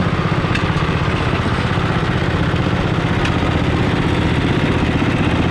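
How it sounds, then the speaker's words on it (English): A Wisconsin gas engine, a farm engine shown at a museum harvest day, runs loud and close with a steady throbbing drone and constant rhythmic firing pulses, with no pauses. "This is an engine I just picked up. It's a Wisconsin engine."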